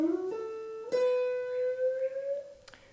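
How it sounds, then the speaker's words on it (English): A single guitar note at the 12th fret on the B string is bent slowly upward, its pitch rising gradually and sustaining, with a soft pick attack and a faint click near the end. "I'm bending this 12th note on the B."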